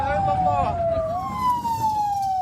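Ambulance siren wailing loud and close as the vehicle races wounded paramedics and patients to hospital after a strike on a school in Jabalia, a steady rising-and-falling tone over engine and road rumble.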